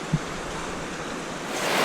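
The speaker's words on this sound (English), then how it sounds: "from the view you see here, we got a lot of fast-moving water" Fast-moving current of the West Fork Chattooga River in Georgia, a steady broadband rush of water close by, with a brief low thump near the start and the roar swelling slightly toward the end.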